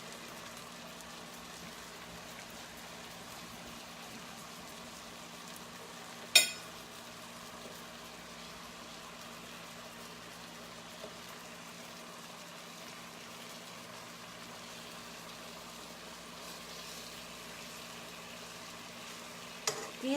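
Herb chicken fries in a pan with a steady, soft, even sizzle throughout. One sharp click or clatter stands out partway through. No one talks.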